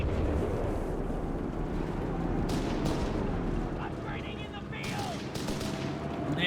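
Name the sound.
machine gun fire from Company of Heroes 3 video game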